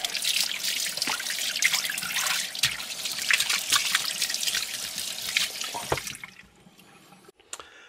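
Tap water runs steadily over raw pork belly being rinsed in a sink, a close, splashy trickle with small drips that cuts off near the end into quiet handling noises.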